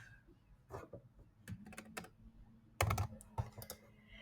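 Quick bursts of typing on a computer keyboard while renaming query columns in Power BI, clustered clicky keystrokes close to the mic with short pauses between, no voice over them.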